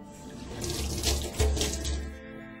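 A tap runs into an apartment sink, a loud steady close gush of water with surging splashes and low gurgles, swelling slightly in the middle, with no one talking.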